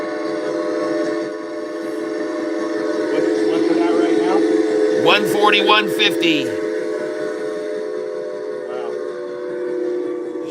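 Train whistle blasts and rolling rail sounds from a train sound effect, steady and fairly loud, with someone talking excitedly over them throughout.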